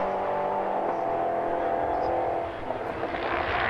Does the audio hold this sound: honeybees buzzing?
no